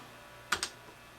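Two quick computer keyboard key presses in close succession, crisp and near, over a quiet background with no talk.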